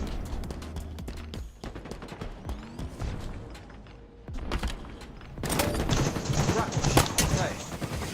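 Gunfire in a competitive shooter game: scattered single shots and clicks early, a lull, then a loud stretch of rapid automatic fire near the end, with faint voices in between.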